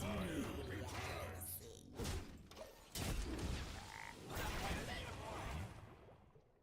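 Frog croaks from a video card game, sounding in bursts over game music and effects, with a voice talking over parts of it.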